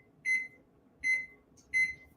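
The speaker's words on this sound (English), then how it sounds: "We're going to set the timer for 40 minutes and see how long it takes." A kitchen timer beeps while being set, three short identical electronic beeps at a steady, roughly even rhythm, clear and close in a quiet room.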